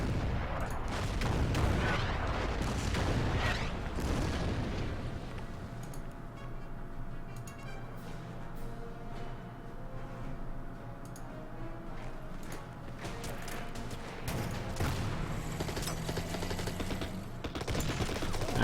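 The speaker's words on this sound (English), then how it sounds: "Then let's fire at the Polish here." Gunfire and artillery in the WWII strategy game Order of Battle, set during Operation Market Garden: bursts of sharp shots and booming blasts at the start and end, with scattered ticking reports in between.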